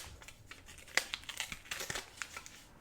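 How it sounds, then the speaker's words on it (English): Sublimation transfer paper being peeled off a coaster, a quiet papery crinkle and tear with a sharp snap near the start and scattered small crackles throughout. "I'm going to grab my coaster and we're just going to peel that image off."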